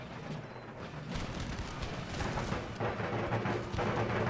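Troops opening fire in Empire Total War, a dense rolling barrage of musket and artillery booms, rumbling continuously and loud with overlapping bursts and no clear gaps.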